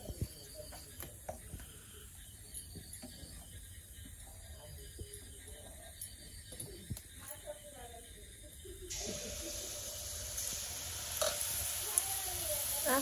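Pitha cakes frying in hot oil in a village kitchen: a steady sizzle with scattered clicks and scraping, growing louder and denser partway through, under continuous talk.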